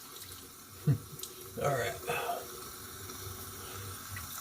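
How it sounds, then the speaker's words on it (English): Tap water runs into a bathroom sink while someone rinses their face before a wet shave, a soft, steady splashing and trickle with brief louder gushes, heard close under a man's quiet speech. "So just kind of use the water in the sink and put your hands in it and rinse your face off"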